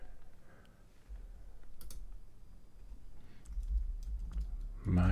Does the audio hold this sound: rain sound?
no